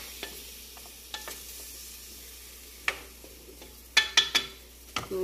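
Chicken pieces sizzle steadily in a pan for spicy curry while a utensil stirs and scrapes, with sharp clicks and clatters louder toward the end.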